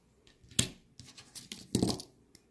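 Flush cutters snip through a coil of jewelry wire in a holly-and-berries wire-wrap piece, giving two sharp close clicks among light rustling and handling noise.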